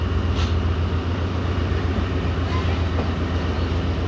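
Pak Business Express train pulling away from Raiwind junction, heard from on board as a loud, continuous low rumble and wind roar with faint rhythmic rail clatter and no talk.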